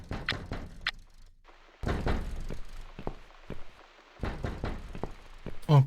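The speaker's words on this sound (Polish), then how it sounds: "Otwórzmy drzwi." Door opening in the video game The Cat Lady, heard as a series of dull thunks and knocks with short silent gaps and a final heavier thud.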